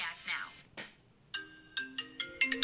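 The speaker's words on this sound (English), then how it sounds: "your phone's ringing, Nick" A phone ringtone plays as a series of short bright melodic tones that climb and repeat, clear and moderately near, after some brief talk and a noisy rustle at the start.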